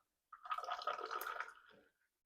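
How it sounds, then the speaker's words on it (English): Tea poured into a cup, a soft trickling stream lasting about a second and a half, close and quiet, tapering off at the end, with no talk over it. "Pour some tea."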